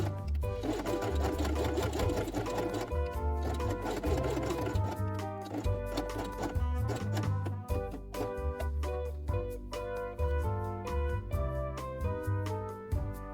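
A sewing machine runs steadily, stitching fabric with brown upper and lower threads while assembling a 3D dollhouse book. The mechanical whir stays close and loud, with short pauses and restarts toward the end.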